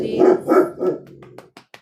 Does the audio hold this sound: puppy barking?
yes